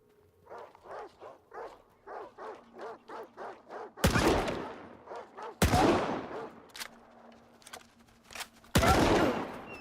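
Video game gunfire from the original trilogy bursts out in three loud, abrupt blasts, each with a rolling tail, after a run of rhythmic barking-like calls.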